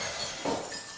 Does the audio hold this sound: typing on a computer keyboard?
no